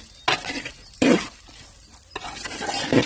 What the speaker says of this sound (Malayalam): നമ്മൾ ഫ്രൈ ചെയ്ത് വെച്ചേക്കുന്ന സോയ ഇങ്ങോട്ട് ആഡ് ചെയ്ത് കൊടുക്കാം